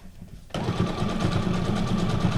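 A sewing machine starts after a brief pause and runs a decorative snowflake-like stitch, producing a fast, even mechanical whir and rhythmic clatter, close and steady.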